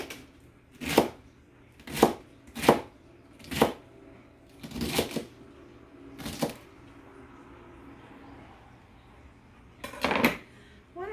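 Vegetables chopped for a hearty beef soup on a flexible cutting mat, with a knife striking in a steady series of sharp, close chops, about seven in quick succession, then a pause and two more.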